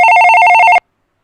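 A telephone on a live show's new call-in line rings loudly and close with a bright, rapidly trilling electronic bell tone, cutting off abruptly after under a second into silence.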